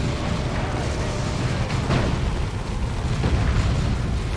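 Nuke detonating in a Warhammer 40,000: Dawn of War 2 2v2 battle, a loud, sustained rumbling blast rolling on amid ongoing combat noise.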